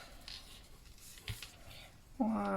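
A pen writing the word June inside a box in a bullet journal gives light scratchy strokes on paper, faint and close, with a brief louder tonal noise near the end.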